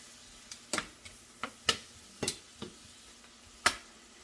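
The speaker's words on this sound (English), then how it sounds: "we're going to let this keep simmering again for another probably 5 to 7 minutes" Onions simmer in a pan with salted butter and beef broth, giving scattered soft pops and crackles over a low, steady hiss, with no one speaking.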